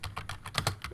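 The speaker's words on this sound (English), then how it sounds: "I can't type numbers on a keyboard" Rapid typing on a computer keyboard, about eight crisp key clicks in quick uneven succession, close and clear with no speech.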